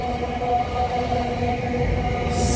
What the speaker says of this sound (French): Il y a un train qui passe en plus